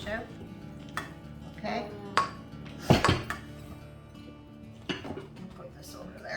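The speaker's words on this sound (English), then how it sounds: "So do you want to get that casserole dish out?" A casserole dish is taken out and handled in a home kitchen while cooking stuffing, with clinks of glass and dishware, a sharper clatter near the middle and another knock later, under a brief spoken word and background room noise.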